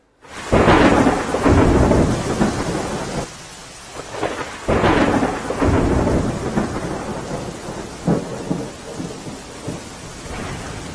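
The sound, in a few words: rain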